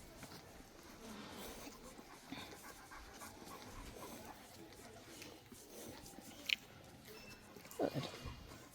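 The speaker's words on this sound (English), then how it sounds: "He's got a good pant going on." A dog named Fritz during leash training outdoors at a lumber yard pants quietly and rhythmically in soft, faint breaths, with a few small snorts or sniffs near the end and no one speaking.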